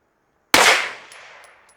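A single sharp gunshot from a Walther PDP FS PRO SD pistol fitted with a compensator, loud and close, its report decaying over about a second, with faint high pings following.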